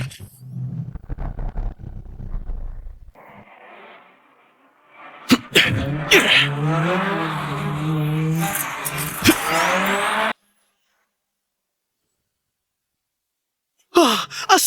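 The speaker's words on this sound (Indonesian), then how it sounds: "inikah yang disebut ngedrift maut?" A race car drifts through a corner with its engine roaring and its tires squealing in long, loud, wavering tones. A breathy burst comes before it, and it cuts to silence before a brief return.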